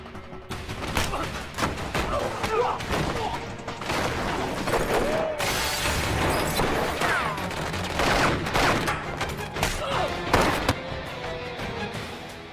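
Gunfire fills a film action scene, dense volleys of sharp shots and bursts in rapid, irregular succession, with mechanical clatter and booms mixed in at close range.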